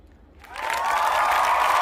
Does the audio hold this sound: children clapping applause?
yes